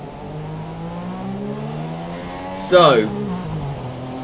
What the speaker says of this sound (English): But the formation lap is underway